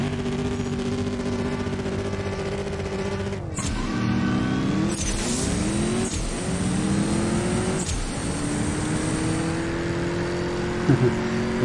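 An Aston Martin DBX twin-turbo engine revs hard in CSR2, a mobile drag-racing game. The loud, steady drone rises in pitch through several sharp gear-shift breaks and sits up front.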